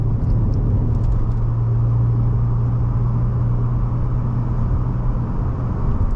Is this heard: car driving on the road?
yes